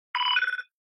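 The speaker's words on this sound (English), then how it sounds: "That's my phone." A phone rings once with a short, bright electronic tone lasting about half a second, close and clear with no talking.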